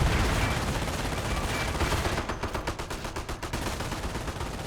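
Machine gun fire from the real-time strategy game Company of Heroes, a dense roar of gunfire that turns into rapid, rhythmic bursts of automatic shots in its second half, loud, with no voices.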